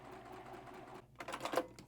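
A sewing machine stitches a quilted mug rug along a drawn sew line, a soft steady motor whir that pauses briefly and then resumes a little louder with quick mechanical chatter.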